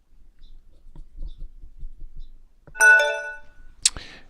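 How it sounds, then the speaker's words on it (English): Payment-received notification from a merchant account, a short bright chime with stacked tones followed by a quick ping, clear and close after a stretch of faint quiet handling noise. "The notification you just heard is a notification that the payment came in"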